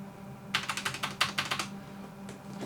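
A computer keyboard is typed on during a modest PC upgrade, a quick burst of about a dozen sharp, close keystrokes with no talking.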